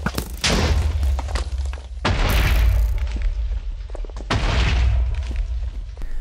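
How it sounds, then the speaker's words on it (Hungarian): Three heavy booming video game TNT explosions arrive a couple of seconds apart, each a loud broadband burst with a deep rumbling tail that fades before the next. "de gyönyörködjetek a robbanásokban"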